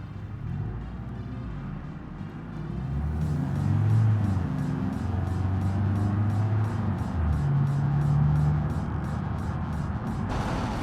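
Naturally aspirated car engine driving in BeamNG, a steady low hum with rising and falling pitch as the revs change, continuous and moderately close.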